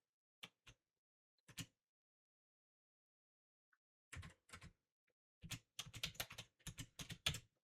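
Keys tapped on a computer keyboard while typing a file name: a few isolated clicks, a pause, then a dense, fast run of close keystrokes in quick bursts with no talking.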